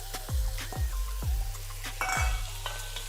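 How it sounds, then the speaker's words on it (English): Onions and ground beef frying in a Dutch oven, with a steady sizzle and a few sharp scraping stir strokes, loud and close, no voices. "Now I'm gonna go ahead and add my onions now because we want to cook them down just a little bit."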